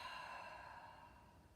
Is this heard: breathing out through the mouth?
yes